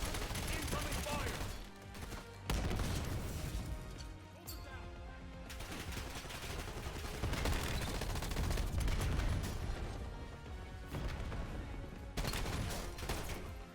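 Incoming gunfire in Call of Duty: Black Ops 7, with dense bursts of automatic fire and shots crackling nearly nonstop over game sound, briefly easing around the middle before resuming loud and busy.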